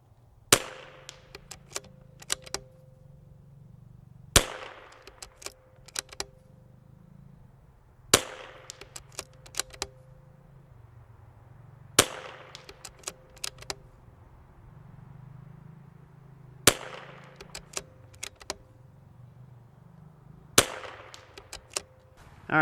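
A .22LR precision rifle fires six sharp, loud cracks at steady intervals of roughly four seconds. Each shot is followed by a cluster of smaller clicks and knocks, with a quiet low hum between shots.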